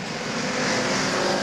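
Stock car engines roaring at Beech Ridge Motor Speedway as two cars race side by side, a loud, steady broadband drone of close engine noise with no voices.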